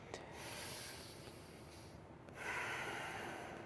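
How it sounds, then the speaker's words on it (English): A slow, deep breath drawn in through the nose and let out gradually, a soft airy rush close to the mic with no talking. "Take a nice inhale through your nose and slowly exhale"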